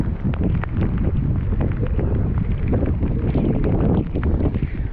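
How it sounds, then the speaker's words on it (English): Steady wind roars and buffets the microphone during a solo bicycle tour in bad weather on a Genesis Tour de Fer 10, with a constant broadband rush and gusty flutter and no one talking. "There's a little bit of wind, but it's not terrible."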